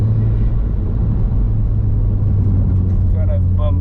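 An Audi TT on old, worn standard suspension bushes is driven deliberately over bumps and rough road, giving a steady low road rumble and engine drone heard from inside the cabin, with no talk.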